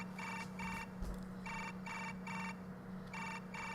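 Smartphone ringtone ringing from a bag in the game Chaos;Child, coming as regular repeated bursts of bright electronic tones over a low steady hum, fairly quiet and with no voices.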